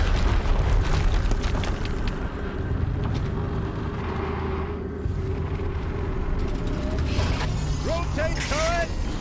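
A machine turret in the video game Horizon Zero Dawn rotates with a continuous mechanical whirring and ratcheting grind over low rumbling booms, with short electronic chirps near the end.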